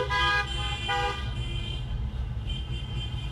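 Several car horns honking in a police support rolling rally, two clear toots early on and fainter honks later over the steady rumble of passing traffic, no talk.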